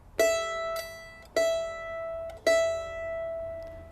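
Three separate plucks of a mandolin's highest E string ring out bright and clear, each note struck about a second apart and left to decay, close and alone with no voice.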